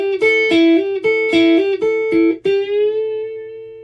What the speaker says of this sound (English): So that 8th fret on the B string, I can just bend up until I hit my root note